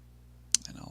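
A single sharp computer mouse click, close and crisp, followed by a fainter second tick, set against a quiet room hum with the start of a voice right after.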